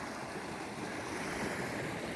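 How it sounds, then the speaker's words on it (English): Water rushing steadily over a small river crossing on a hot mountain hiking trail, a dense, even wash of flow with no pause and a faint breath of wind at the microphone. "You can see here my first little river crossing over here now that I've got for the day"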